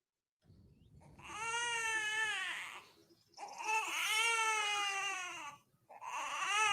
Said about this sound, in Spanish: Se escucha un llanto de un bebé.